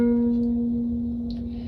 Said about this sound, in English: Then we're going to put our ring finger on the G string third fret,